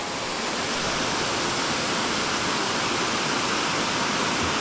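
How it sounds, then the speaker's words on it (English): Minyon Falls in Nightcap National Park, New South Wales, pours down as a steady, dense roar of falling water that fills the whole stretch, close and unbroken with no voices. "Really two different waterfalls in one."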